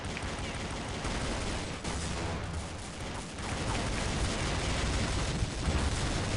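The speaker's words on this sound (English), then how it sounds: "Ah, shoot, I got blown up." A dense, continuous roar of gunfire and explosion noise from a round of Counter-Strike: Condition Zero, loud and broadband, with no voices over it.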